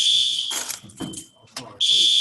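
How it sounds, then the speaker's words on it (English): A shrill, loud fire alarm sounds in a classroom, its piercing tone broken in the middle by people talking before blaring again. "there's a fire alarm going on, so we're gonna pause"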